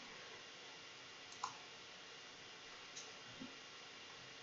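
A computer mouse clicks on an export-to-Excel icon in fertilizer recommendation software, a few faint, isolated clicks spaced over several seconds in an otherwise near-silent room.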